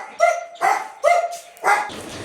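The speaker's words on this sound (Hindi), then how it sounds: "ये चुन्नू भौंकता है ना गाइस," Chunnu, a pet dog that can no longer walk well, gives four close, loud barks in a steady rhythm, each short and sharp with a slight whine to it, then stops.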